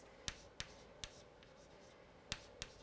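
During a number theory lecture, chalk or a marker taps and scratches across a board in a handful of sharp, quiet strokes with pauses between them, heard alone in a quiet room.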